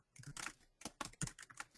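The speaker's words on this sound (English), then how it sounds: "Is somebody typing out there?" Rapid keystrokes clatter on a computer keyboard in uneven bursts, fairly close and moderately loud, with no talk over them.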